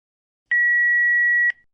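A single answering machine beep, a clean steady electronic tone lasting about one second after silence, then a short fading tail.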